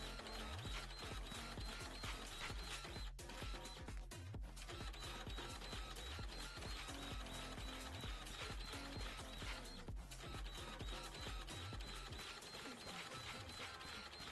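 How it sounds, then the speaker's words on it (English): A printer runs steadily with whirring, clattering mechanical motion and repeated ratcheting knocks, continuous and fairly loud throughout. "I need to upgrade this damn printer"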